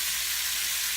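Osso buco sears in a hot pan, a dense, even sizzle that hisses steadily and loudly throughout with no break and no voices.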